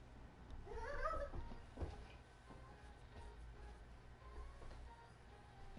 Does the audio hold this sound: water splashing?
no